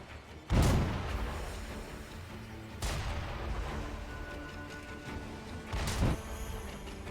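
Shotgun blasts in Sekiro: three heavy, booming shots spaced a few seconds apart, each with a sharp onset and a rumbling tail over faint background ambience.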